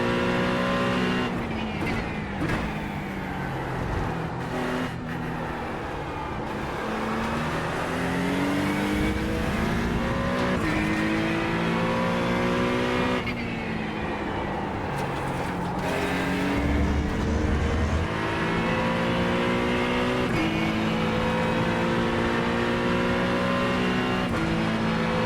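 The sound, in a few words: Acura GT3 race car engine and gear shifts in iRacing video game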